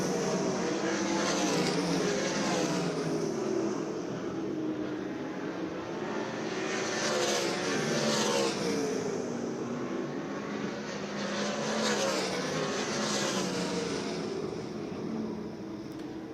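410 sprint cars roar around the dirt oval at Port Royal Speedway, a dense, sustained engine drone from several cars that swells and fades in waves as the pack passes through the turns, with no talk over it.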